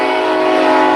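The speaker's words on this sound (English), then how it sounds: "Why the fucking train?" A train horn blares loud and steady at close range, a sustained chord lasting the whole moment with no talking over it.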